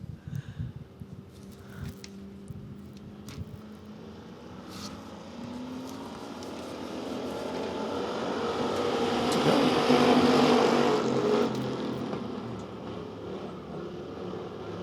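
Race cars roaring around Devil's Bowl Speedway, a pack of engines droning far off and then swelling as the field sweeps past, peaking loudly before fading back into the distance.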